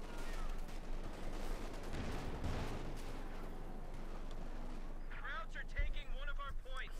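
Gunfire and shell impacts in Company of Heroes 2, a continuous dense rumble of artillery and small-arms fire with scattered hits, under a steady commentator's voice throughout.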